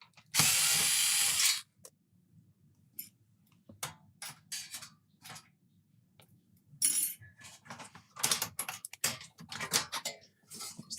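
Screws being undone by hand during an Amiga 500 repair, with a loud burst of tool noise at the start followed by many short, close clicks and scrapes in irregular bursts, no talking.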